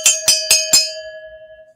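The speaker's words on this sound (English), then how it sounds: "here is some cowbell for you" Four evenly spaced, loud, ringing cowbell strikes played live on a stream, each clear and bright, with the last one left to ring out and fade over nearly a second.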